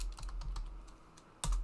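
Keys on a computer keyboard tap in a quick, uneven rhythm, close and fairly quiet, ending with one louder thump.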